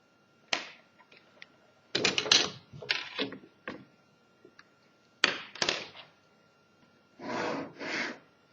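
Pencil lines being ruled on paper for a technical drawing, a series of short scratchy strokes and taps in irregular bursts, close and fairly quiet against a silent background.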